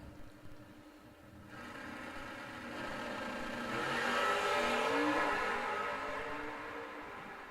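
A drag racing car launching down the strip at a Bowling Green outlaw event, a distant engine roar that swells as it accelerates, peaks mid-clip and then fades as the car pulls away.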